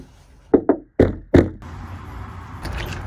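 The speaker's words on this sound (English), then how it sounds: "Somebody's knocking." A door knocked on four times in quick uneven raps, close and fairly loud, followed by a quieter room.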